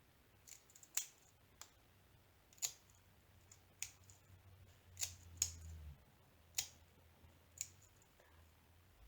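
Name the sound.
cutting diamond painting bags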